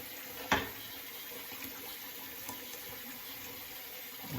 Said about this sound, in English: We're letting the water run for a minute.